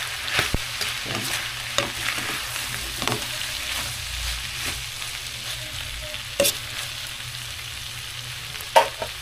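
Sisig is stirred in a frying pan, with a steady sizzle broken by scraping strokes and sharp clinks of the utensil against the pan, close up and with no talking.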